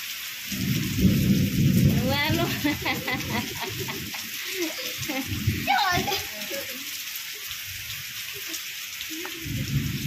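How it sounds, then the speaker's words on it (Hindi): Heavy monsoon rain pours steadily in a broadband wash, with low rumbles like distant thunder; someone talks over it at times. "वर्षा होची जोरे"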